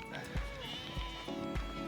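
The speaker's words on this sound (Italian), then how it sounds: "Queste sono le agnelline nate in autunno e lasciate appunto crescere per diventare future produttrici di latte." Young ewe lambs born in autumn, kept as future milk producers at a dairy farm in Rome, bleating repeatedly in overlapping calls, close and moderately loud.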